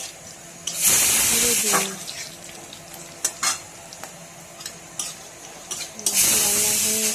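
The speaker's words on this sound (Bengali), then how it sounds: "এবার দারচিনি, লবঙ্গ, তেজপাতা, শুকনো লঙ্কা" Whole spices, cinnamon, cloves, bay leaves and dried chilli, hitting hot oil with bursts of loud sizzling and stirring clatter, fading and flaring again, while someone briefly speaks.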